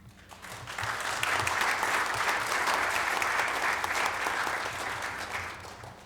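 Warm applause in a city council meeting room welcoming a new fire chief, rising quickly from a few claps into steady clapping from the gathered crowd and then tapering slightly at the end.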